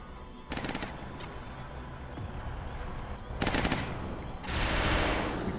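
Video game gunfire from XCOM: Enemy Unknown: sustained bursts of automatic fire in three loud volleys, the last one longest, over a constant background rumble.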